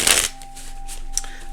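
A deck of playing cards riffled in one quick, loud burst at the start, followed by quieter faint card handling and a low steady hum.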